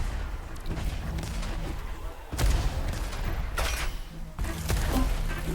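Rocket explosions and weapon fire in the arena shooter Diabotical during a competitive tournament match: a steady wash of combat noise with several sharp, loud blasts bursting out over it, faint voices underneath.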